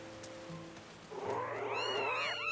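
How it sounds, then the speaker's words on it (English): Cats meowing in the video game Zelda Skyward Sword, a few quiet overlapping mews rising near the end over faint background music, no talk. "There's a bunch of cats that just came out of nowhere."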